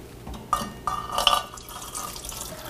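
Ice cream mixture poured into a freezer canister: a short, close run of wet splashing and dribbling with glassy drips, rising to a fuller gush midway, then trailing off into a soft trickle.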